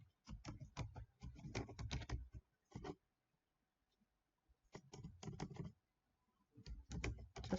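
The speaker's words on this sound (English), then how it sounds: "So let me type this in." Bursts of rapid keystrokes on a computer keyboard while logging into an account, close and crisp, in three clusters separated by short silent pauses.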